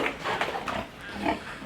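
A pig grunts in a farm pen, a few short low snorts and grunts close by, scattered across a brief moment with no talk.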